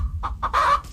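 A chicken clucks in quick bursts: two short clucks followed by a longer, drawn-out squawk and a final brief call, close and clear against quiet.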